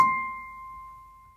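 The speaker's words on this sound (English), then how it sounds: "and then our highest C would sound like this" A bright, high piano C note is struck once and rings thin and pure, gently fading away in otherwise quiet surroundings.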